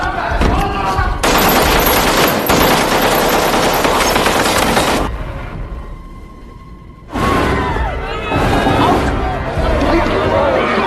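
AKM rifle fire in an action film: sustained, loud automatic bursts with crashing impacts, a brief quieter pause, then another heavy stretch of shooting.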